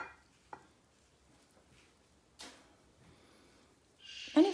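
A brush mixing phthalo blue watercolor paint in a dish: a few short, faint scrapes and swishes separated by quiet gaps, ending in a brief louder stir.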